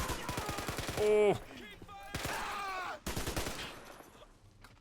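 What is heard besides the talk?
gunfire in Men of War Assault Squad video game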